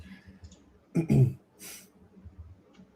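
Computer mouse clicks while browsing between trading markets: a few soft clicks, then a louder cluster of clicks and a brief sharp burst near the middle, fairly close over faint background noise.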